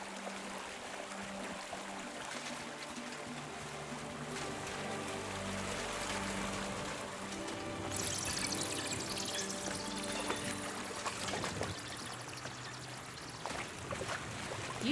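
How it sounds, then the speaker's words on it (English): Water rushes steadily through a cave passage in Kingdom Come Deliverance 2, where a usual small trickle has swollen with risen water. The flow is continuous and fairly full, with soft game music beneath it and no voices. "Usually there's only a small trickle running through here. The water must have risen."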